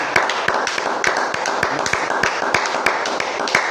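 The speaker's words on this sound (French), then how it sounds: "Acclamons pour notre Seigneur Jésus." A church congregation applauding, steady rhythmic clapping with sharp accented beats throughout, loud and continuous with no talk.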